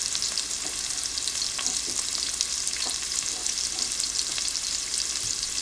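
Onions sauté in a pan on a stove with a dense, steady sizzle and crackle, close and even throughout, with faint occasional clicks and no talking.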